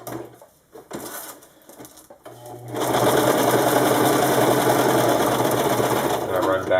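A sewing machine stitching back across Velcro and elastic on a wing-style mag pouch, starting with a few short bursts and then a loud, steady whirring run, with a voice talking alongside.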